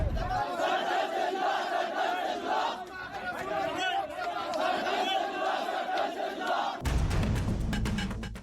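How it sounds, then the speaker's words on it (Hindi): An angry street crowd in Hyderabad chants violent slogans, a dense roar of many voices shouting in rhythm, with a sudden louder burst of yelling near the end. "ये भीड़ मारकाट के नारों के साथ सड़क पर उतरी"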